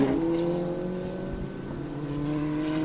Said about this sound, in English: everybody is out there on the course, just trying to warm up the cars